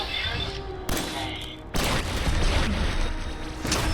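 Pistol gunfire in Fallout 4 near the Red Rocket station: a few sharp, loud, close shots in quick succession over a constant background of battle noise, with no talking over them.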